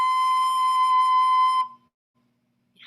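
A recorder plays a single note B, a steady, clear, gently blown tone held for about a second and a half before it stops, leaving near silence.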